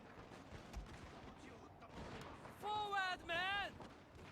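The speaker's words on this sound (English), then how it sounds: "I'm also going to give them a rapid volley" Rapid musket volley fire rolls through a Shogun 2: Fall of the Samurai battle as continuous distant crackling gunfire, with loud horn-like blasts rising over the din near the end.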